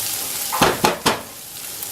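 Shredded radish hash browns fry in a pan with a steady sizzle, broken by three quick bursts of louder crackling as the food is stirred or pressed.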